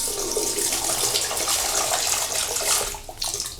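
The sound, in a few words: water running from a bathroom tap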